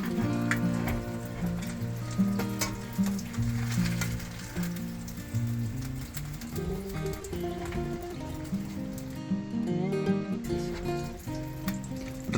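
Sole fillets sizzle and spatter in hot butter in a frying pan, a steady crackle running under prominent music for the whole stretch.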